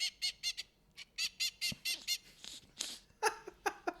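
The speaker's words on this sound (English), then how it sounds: "was a male duck followed by a female duck." A male duck quacks in a quick run of short, bright calls, followed by a female duck's rougher, more scattered quacks, close and clear with no talk.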